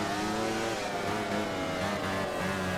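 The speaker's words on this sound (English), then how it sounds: "You can hear me on and off the throttle" A racing motorcycle in the MotoGP 15 video game drones at high revs, the engine note rising and dipping as the throttle is opened and closed, steady and unbroken with no one speaking.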